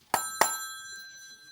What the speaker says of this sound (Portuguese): É realmente apenas um sino físico.